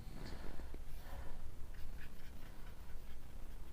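Marker or chalk scratching across a board while a physics figure of a cylinder under torque is drawn, soft irregular strokes over a steady room hum, no talking.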